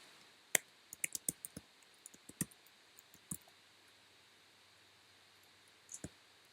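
Scattered, crisp clicks of keys tapped on a computer keyboard while an email address is entered, in short irregular bursts with pauses, close and quiet over a soft background hiss.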